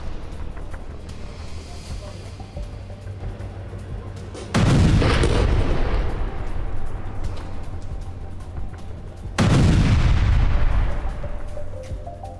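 Two heavy blasts from IDF strikes in Khan Younis, Gaza, each a sudden loud crack that rolls off into a long rumble, several seconds apart over a low steady background hum.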